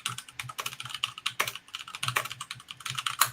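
Fingers type a password on a computer keyboard in rapid, irregular bursts of crisp key clicks, close and fairly loud, with a few heavier thumps as keys bottom out.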